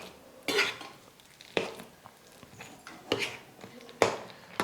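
A spoon scrapes and clinks against a pan at intervals while a toor dal sweet filling is stirred, giving four or five sharp close knocks over quiet background.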